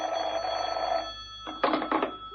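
Old-fashioned telephone bell ringing in short trilling bursts, a sustained ring followed by two quick rings after a brief gap, moderately loud and close, with no talk over it.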